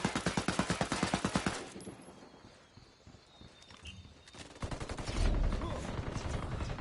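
Rapid automatic gunfire bursts in the tactical shooter Ghost War, a loud rattling volley at the start, a lull, then heavier firing and a deep boom near the end.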